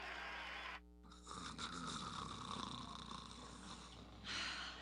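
A man snores in a television advert, making a couple of slow, rattling breaths that sound close and fairly loud, with no talking over them.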